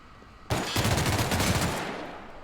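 A gun in The Outer Worlds opens fire with a sudden, loud burst of rapid shots that rattles on for about two seconds, then tails off into a fading echo.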